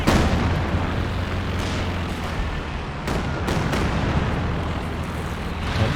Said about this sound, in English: firing off the airburst shells back